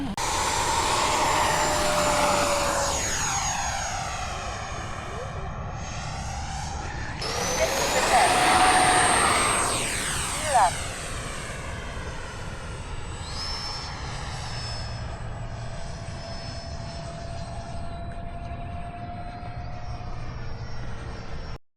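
Model airplane at Fritz Field roars past with a loud whining engine, its pitch sweeping up and down as it climbs and passes, turbine-like tones lingering as it recedes into the distance, voices faintly present.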